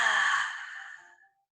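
A single long, breathy exhale during a children's movement breathing exercise, loud at first and then tapering off to silence after about a second.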